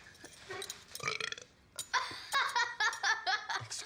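A boy in a classroom lets out a loud, drawn-out burp with choppy bursts, mixed with laughter and giggling around it.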